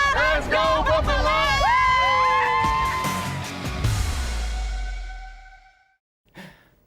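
A crowd of Buffalo Bills fans chants and cheers loudly to welcome the team on a season morning, a dense roar with rhythmic shouted calls that fades out, then a brief last burst.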